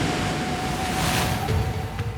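Ocean surf and wind along a Fiji island coast in the South Pacific, a steady wash of breaking waves and blustery air with no voices, holding at an even loudness throughout.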